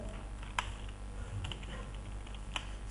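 Sparse keystrokes on a computer keyboard in a Windows XP lesson, a few isolated clicks spaced apart over a low steady hum, quiet and close.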